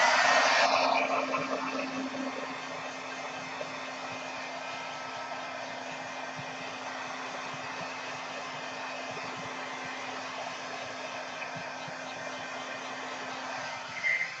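A hair dryer blows steadily on watercolor paper sprayed with Dylusions dye, a loud constant whoosh that starts strong, settles to an even drone and continues almost unbroken.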